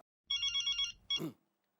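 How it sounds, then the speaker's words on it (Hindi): A telephone rings in two short electronic bursts, close and clear, followed by a brief rustle, then silence. "ये देखो जेठालाल का फोन भी आ गया मेरे पास, पता ही था।"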